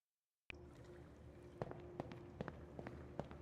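Footsteps in a video game: after a brief silence, a string of quiet, irregular steps over a low, steady background, with no voices.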